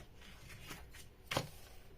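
A quick crisp snip of scissors cutting the corner of paper craft material, one short, faint cut standing out against a quiet room.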